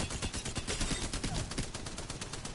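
Sustained automatic fire from a light machine gun in Apex Legends, a dense rapid stream of loud shots lasting the whole stretch with no talking.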